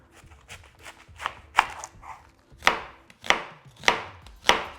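A knife cuts through a head of cabbage on a cutting board, slicing it into eight pieces with a series of sharp, crisp chops spaced roughly half a second apart, close and clear.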